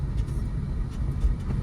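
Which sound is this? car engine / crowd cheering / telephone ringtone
car engine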